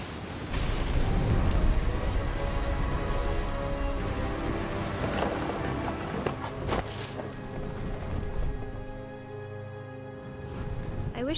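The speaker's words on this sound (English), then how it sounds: "The thunder sounded much too close and full of angry power." Steady rain hisses in a video game, with low rolling thunder rumbling underneath. The sound is broad and continuous, fairly loud at first and easing slightly toward the end.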